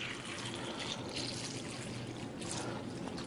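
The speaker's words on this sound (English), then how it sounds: "we're just going to simulate that by pouring some tap water in here." Tap water poured into a container, a steady, soft splashing trickle that runs without a break, fairly faint and with no voices.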